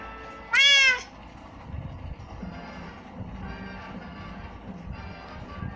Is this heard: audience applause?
no